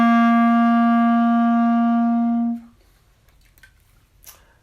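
A clarinet sustains a single note C, a clean, steady tone with rich harmonics held for about two and a half seconds before stopping, followed by faint room noise.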